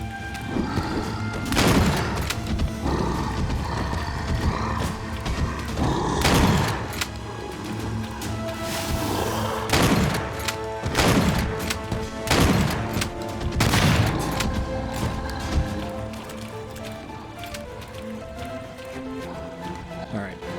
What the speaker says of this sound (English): 2 shots is all I have left before I have to go grab some ammo